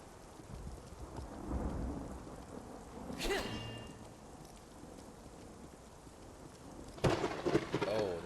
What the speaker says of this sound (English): that crack from the thunder and lightning